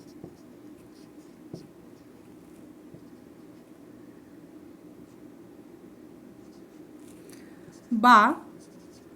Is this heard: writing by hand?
yes